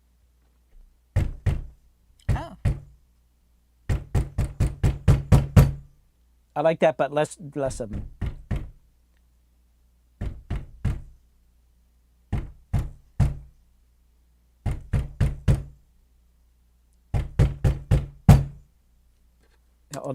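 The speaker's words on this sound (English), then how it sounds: "put your hand on the door and then hit it with your palm." A palm slaps a rattling wooden door for foley in a home studio, with repeated bursts of three to six quick, close thuds separated by pauses. Talk comes between some of the bursts.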